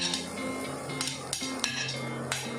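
Carrots tumble into a dry Queen Cookware pan with no oil for frying, giving a few sharp metallic clinks and scrapes against steady kitchen background hum.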